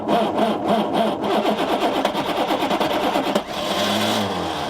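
A diesel vehicle engine cranks and labours to start in extreme cold around -25°, a dense rhythmic churning that fires and falters before settling into a rougher idle, loud and close with no talk.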